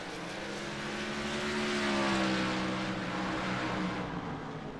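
Several high-horsepower race cars lap a short oval track, engines droning loudly at close range with overlapping rising and falling whines and a steady roar throughout.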